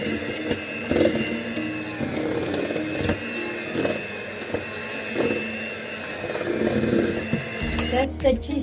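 An electric mixer whirs steadily through cheesecake batter of cream cheese and sugar, a continuous motor hum with faint rhythmic swishes and taps against the bowl, then a brief clatter near the end while someone talks over it.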